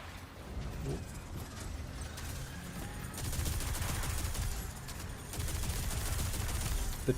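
Video game turret fire crackles in rapid bursts, a continuous rattling fusillade that grows denser partway through, with no talk over it.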